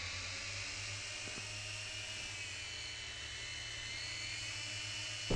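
Steady whirring buzz of a drone in the game Kill It With Fire, a continuous mechanical drone that holds level throughout with a brief louder burst at the very end.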